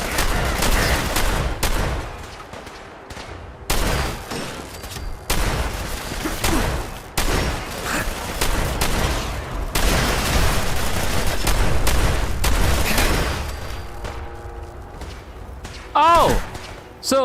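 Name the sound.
gunfire from the video game Fallout 4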